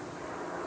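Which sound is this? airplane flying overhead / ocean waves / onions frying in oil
airplane flying overhead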